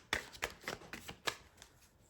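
Tarot cards being shuffled by hand, a series of about six crisp riffling bursts at a steady rhythm, close and fairly quiet, with no talking.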